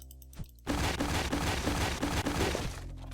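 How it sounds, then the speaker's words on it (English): A Tommy gun rattles off a sustained burst of rapid automatic fire in the game Pecaminosa, loud and close and lasting a few seconds before cutting off abruptly. "Sometimes a crit just saves me some bullets. Especially with this Tommy gun."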